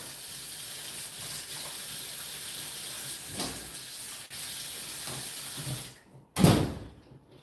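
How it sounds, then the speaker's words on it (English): A household door is pushed shut, with a scraping slide and soft rubbing as it moves, then a short gap and a firm, close thud as it closes, heard alone without talking. "let me go close that door"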